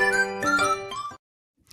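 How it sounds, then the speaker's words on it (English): A bright chime with ringing, tinkling tones sounds in three or four overlapping strikes that decay into silence, followed by a faint trailing sound. "There's the chime indicating, yeah, this is a good place to end it."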